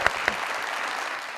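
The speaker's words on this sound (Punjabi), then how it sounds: "ਤਾੜੀਆਂ ਤਾੜੀਆਂ ਤਾੜੀਆਂ" Studio audience at a live comedy talk show breaking into brief, moderately faint applause, a few sharp claps at the start followed by a steady wash of clapping.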